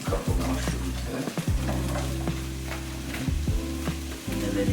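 Mushrooms sizzle in a creamy Tuscan sauce in a hot pan, a steady loud frying hiss with bursts of spattering and the scrape of stirring, no talking.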